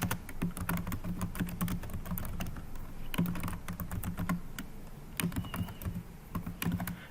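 Steady typing on a computer keyboard as sentences are entered, a continuous close patter of key clicks with brief pauses and no talking.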